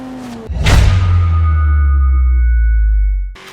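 A Porsche 911 GT3 RS engine in Forza Horizon 3 rises into a loud, deep, sustained roar that holds steady for a few seconds before cutting off abruptly.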